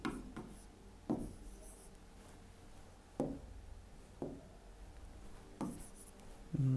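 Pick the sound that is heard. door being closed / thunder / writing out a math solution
writing out a math solution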